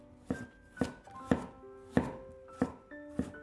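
A knife cuts washed cucumber into strips on a cutting board for homemade pickles: six crisp, evenly spaced chops, close and clear, with no voices.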